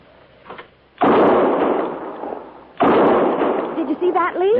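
A rifle is fired at an antelope, giving two sharp loud reports spaced well apart, each with a long echoing decay, with faint voices before and after.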